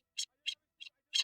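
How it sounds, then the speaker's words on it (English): A bird calls four times in short, evenly spaced shrill notes that sound like "queen, queen," heard alone with no other sound between them. "I wonder if you can hear that bird in the background."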